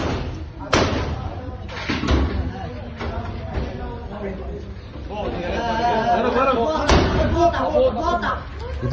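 A man hammers a metal door with a stone, sharp clanging slams landing irregularly, several loud hits, amid a crowd of people chattering and talking nearby.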